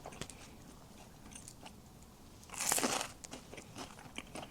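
A Greek yogurt and basil sandwich layered with crunchy, firm prickly cucumber is bitten into up close, giving one loud crisp crunch midway, followed by softer chewing and small crackles without speech.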